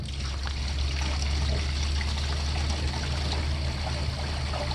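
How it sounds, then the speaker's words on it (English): Water gushes through an RV black holding tank during a flush, a loud, steady trickling and pouring rush with a low rumble that holds constant throughout. "I have flushed the first round of the tank."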